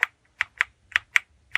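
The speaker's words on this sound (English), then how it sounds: "if I actually press the caps lock key" The caps lock key on a Tandata TD4000 data terminal keyboard is pressed repeatedly, giving six crisp, close plastic clicks in an uneven rhythm with silence between.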